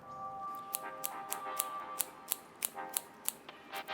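Scissors snip soaked fish maw for a Vietnamese fish maw soup with crab, making a steady run of crisp, close metallic clicks spaced about every third of a second with no talk.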